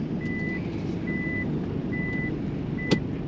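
A Delica 4x4 camper van reverses at a campground, its backup alarm sounding four steady evenly spaced beeps over a constant engine hum, with one brief click near the end.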